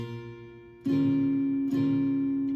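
A sustained electric guitar chord, index-finger barre on the 6th fret of the first three strings, rings out, struck twice with a short gap between strums, clear and close with no talking.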